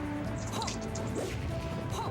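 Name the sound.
forward smash hit in Super Smash Bros Project M video game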